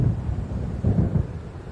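Low rumbling thunder from an approaching storm in the game Alan Wake, rolling in two broad swells beneath steady wind-like noise, fairly loud and alone.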